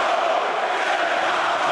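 Loud, dense roar of a Milan crowd at a Bellator MMA fight, a sustained wall of cheering and shouting with no pauses.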